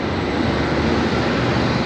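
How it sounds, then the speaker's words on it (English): A South Wales Metro diesel train rumbles past nearby, giving a loud, steady broadband roar that holds without a break throughout. "Well, no, that's a diesel train. There goes the diesel train."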